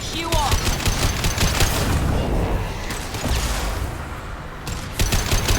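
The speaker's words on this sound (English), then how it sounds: "Firing concussive shot." Rapid bursts of concussive shot weapon fire from the Mass Effect game, loud and dense with booming impacts and crackling gunfire layered in a continuous barrage.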